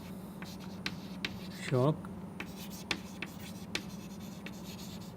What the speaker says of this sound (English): Or I will write here, strong or weak